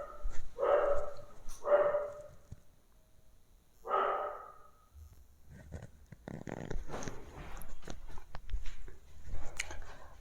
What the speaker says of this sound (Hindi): मेरा कुत्ता थोड़ा ज़्यादा तेज भौंक रहा था